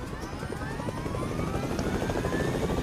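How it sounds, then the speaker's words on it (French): Helicopter in Fortnite Battle Royale, a continuous heavy rotor chop and engine drone, loud and close throughout. "je monte dans un hélico"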